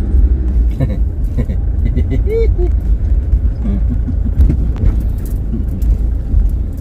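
A car engine idles as the vehicle is parked, a loud, steady low rumble that runs throughout, with a person talking over it and a few brief squeaks on top.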